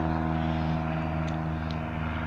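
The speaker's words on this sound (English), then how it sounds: "Excuse me while I wait for an airplane to go by." Propeller airplane passing overhead in a garden setting, a continuous droning hum with steady tonal harmonics, moderately loud and even throughout, no speech.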